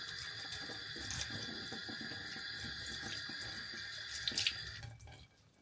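Tap water runs steadily from a faucet into a sink to soak stale, hardened bread, a continuous close splashing stream with a few surges before it is shut off near the end, leaving quiet.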